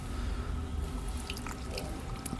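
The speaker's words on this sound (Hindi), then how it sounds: "अब इन सब में मैं डाल लेता हूं पानी गंगा जल के साथ" Ganga water trickles and drips into a container of Vrindavan dust, a light, steady splashing pour with scattered small drips heard up close and without talk.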